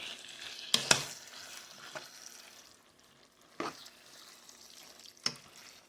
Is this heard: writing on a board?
no